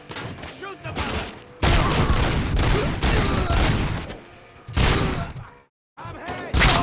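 Dense gunfire from the Robocop: Rogue City video game on PS5, in a street gang's turf, roars in sustained loud fusillades broken by brief pauses, with voices shouting over the shooting.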